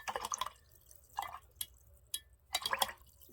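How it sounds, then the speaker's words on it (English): A paint brush swished and rinsed in a small container of water makes several short bursts of wet splashing and dripping, close and quiet, separated by brief pauses. "Make sure my brush is nice and rinsed."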